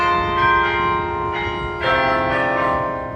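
Century Tower carillon bells at the University of Florida ring out a melodic tune in a steady sequence of overlapping resonant strikes that hang and blend together, loud and alone.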